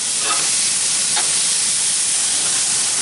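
Burgers cook on a propane grill with a loud, steady, broad hiss of sizzling that runs without a break, close by and with no talk.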